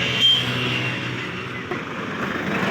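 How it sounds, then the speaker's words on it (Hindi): Vehicles passing along a main road, a continuous broad rumble of traffic that swells as a car goes by nearby, with a brief knock partway through. "गाड़ी भी आ रही है, जा रही है सब"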